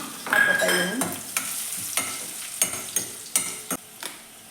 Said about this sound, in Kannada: ಒಂದು 3 ಬ್ಯಾಡಗಿ ಮೆಣಸಿನ್ಕಾಯಿಯನ್ನು ನಾನು ಕಟ್ ಮಾಡಿ ಇಟ್ಕೊಂಡಿದ್ದೀನಿ, ಹಾಕ್ಕೊತಾ ಇದ್ದೀನಿ